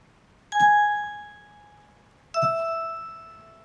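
In Elden Ring, a bell sounds twice, each a clear metallic ding with a long ringing decay, spaced nearly two seconds apart over a faint low background.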